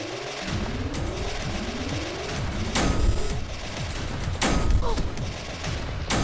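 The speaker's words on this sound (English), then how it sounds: "This is a thing that shoots missiles. It's a big tank." A big missile-firing tank in Beyond Citadel launches volleys, with rapid sweeping whooshes, repeated blasts and two heavy explosive bursts, loud and dense throughout.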